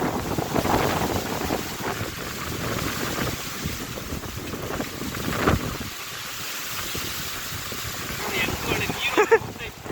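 Strong dusty gale roaring across the open Sira industrial cricket ground, steady buffeting wind noise on the microphone throughout with scattered voices and passing vehicles underneath.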